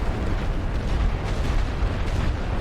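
Continuous rumbling artillery fire from the First World War strategy game The Great War: Western Front, a dense roar of overlapping booms and blasts with no pause, loud and sustained.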